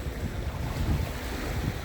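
Waves crash steadily onto the beach at Lake Francis, a broad continuous surf wash mixed with wind rumbling against the microphone, close and fairly loud with no voices.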